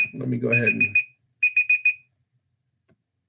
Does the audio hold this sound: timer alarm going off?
yes